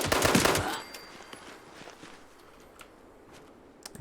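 Fallout 76 gunfire: a loud, close burst of rapid automatic shots in the first half-second, followed by fainter scattered shots and footsteps.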